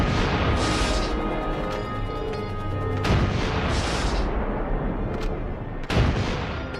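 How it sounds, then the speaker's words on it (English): Allied artillery guns open fire on 8 February 1945 at the start of the Battle of the Rhineland, heavy booms crashing one after another over a continuous rumble of distant bombardment. "February 8th, 1945, Allied guns open fire."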